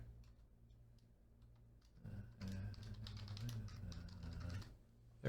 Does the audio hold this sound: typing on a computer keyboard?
yes